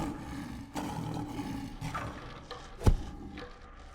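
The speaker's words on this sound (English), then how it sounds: "The lion lashed itself against the bars, roaring." A lion roaring and lashing against the bars of a cage, a deep rumbling roar building over a rough background, with a sharp heavy thud near the end.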